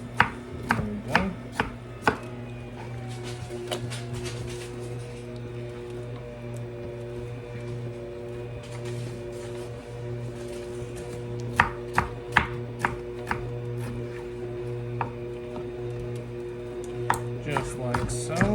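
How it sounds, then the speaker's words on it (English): A knife chops chicken and vegetables on a cutting board, sharp close taps coming in irregular bursts with pauses between them over a steady kitchen hum. "just gonna chop this up"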